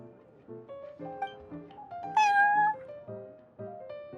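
A cat in the video game Genshin Impact meows, with one clear, rising-and-falling meow near the middle over soft, layered game music.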